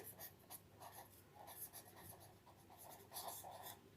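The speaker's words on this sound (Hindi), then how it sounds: "मैं यहाँ पे ये लिख देता हूँ" A lecturer writes on a board during a trigonometry class, making faint, irregular scratchy strokes and taps spread over several seconds, with no speech.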